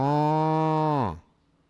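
A single voice imitates a cow, holding one long, steady, deep moo that drops off at the end, at a baseball game between the Baltimore Orioles and St. Louis Cardinals.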